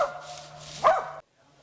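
A hunting dog at a squirrel hunt gives a single drawn-out bark or bay, fairly close, followed by brief silence.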